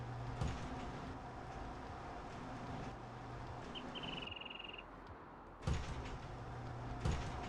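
A door opening in Farming Simulator 19, a soft mechanical sliding rumble with a brief thud or two, faint over a quiet low hum and a short whistling tone, no speech.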